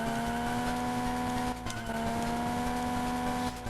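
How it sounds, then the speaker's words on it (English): A van's engine strains hard in a Game Boy Advance racing game, a steady droning whine with fluctuating pitch running continuously, with a couple of brief dips in the tone. "The engine kind of sounds like it wants to die right now."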